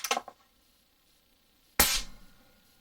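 Two sharp rifle shots from a Howa Mini 6mm ARC firing 85 grain bullets: a crack at the start, then a louder, closer blast with a short ringing tail after a pause.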